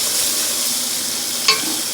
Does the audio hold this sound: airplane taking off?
no